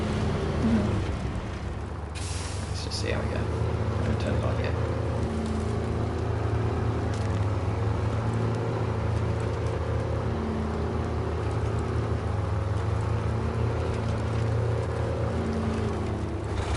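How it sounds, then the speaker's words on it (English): Steady low rumble of a truck engine idling in SnowRunner on hard mode, droning continuously and evenly at moderate loudness throughout, with no talk over it. "So I reckon we're going to have to turn that engine on."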